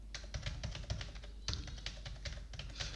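Rapid typing on a computer keyboard during data entry, with quick irregular bursts of close key clicks running steadily throughout, no voices.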